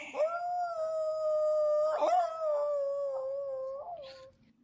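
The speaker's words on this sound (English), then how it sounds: "You are the first of 4 to be able to get the dog cry." A dog gives a long, loud, sustained howling cry that holds a steady pitch for over four seconds, wavering slightly and dipping in the middle before trailing off, close by and alone.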